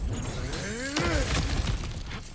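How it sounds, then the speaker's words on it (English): Kratos smashes through cracked ground in the video game God of War Ragnarok, a crunching shatter of breaking rock with sweeping, falling tonal effects over a steady low rumble of game audio. "Ah, back to smashing through things for fun and profit."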